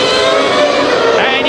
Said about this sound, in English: you hear the engine revs rise as Senna, followed by Schumacher